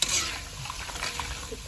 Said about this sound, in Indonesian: Kita goreng dulu yang banyak